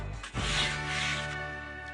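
A balled-up piece of tin foil held in tongs scrubbed across a grill grate, a continuous close raspy rubbing sound lasting a couple of seconds.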